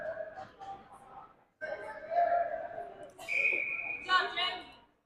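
A referee's whistle stops play in a youth under-13 ice hockey game, with a clear shrill blast over rink chatter while a commentator talks throughout.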